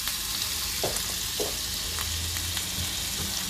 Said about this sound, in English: now I will be adding my the remaining 25 grams of my butter